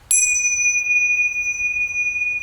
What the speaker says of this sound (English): get a bell, ting chongs or something